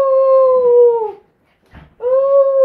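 A dog named Cubby howls close by in two long, sustained wavering tones separated by a short pause with a faint whimper-like sound between them.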